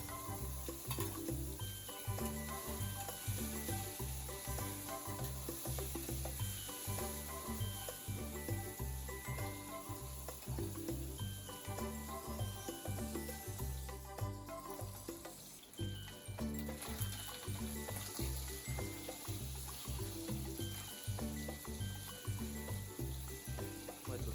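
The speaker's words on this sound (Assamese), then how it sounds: "মাছখিনি ইয়াতে অকণমান ভাজি ল'ব" Continuous sizzle of singhi fish frying in oil, close up, with constant crackling and occasional stirring clinks over the whole stretch.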